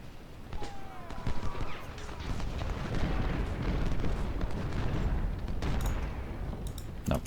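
Artillery shell fire from a Civil War battle at Gaines' Mill in the strategy video game Ultimate General Civil War, a dense run of booms and bursts layered over a steady rumble, moderately loud and with little talk.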